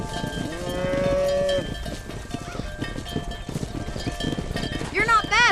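Cattle mooing in the video game Red Dead Redemption during a cattle-herding mission, several long low moos over clip-clopping hooves and cowbell clanks, with voices talking among the herd.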